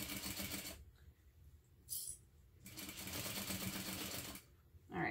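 A sewing machine stitches a fabric envelope wallet in two bursts of rapid mechanical chatter. Brief pauses, a clunk and handling noises fall between the runs, and the level is quiet and close.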